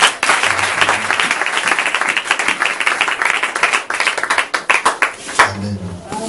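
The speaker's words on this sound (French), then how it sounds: "On pourra acclamer pour le Seigneur." A church congregation applauds for the Lord, a dense burst of many hands clapping that fills the room, growing into rhythmic clapping and then thinning out, with a few voices briefly heard near the end.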